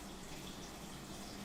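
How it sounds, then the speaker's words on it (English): Running tap water rinsing broccoli in a kitchen, a steady faint hiss of flowing water with no breaks. "So let's give it a quick little wash, rinse here"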